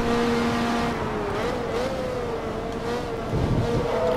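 Ferrari F430 Challenge race car engine in Forza Motorsport 2, a steady loud drone with a wavering pitch as the car slides and corrects, continuous throughout with no talk.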